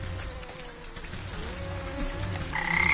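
A frog croaks in the fantasy crafting game Wytchwood, a steady low call under rain-like patter and ambient game sound, with a brighter chime near the end.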